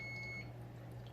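Electronic kitchen timer beeping during cooking, a steady high tone sounding for a moment then stopping, over a constant low hum with no talk.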